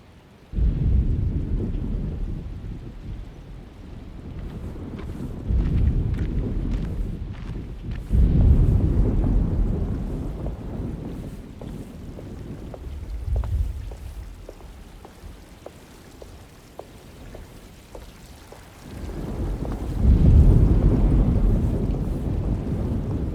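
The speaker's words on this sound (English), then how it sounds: "Looks like a storm's coming." Thunder rumbles in deep rolling swells over steady rain and gusting wind in a stormy video game scene, several heavy booms spaced across the stretch, loud and alone without voices.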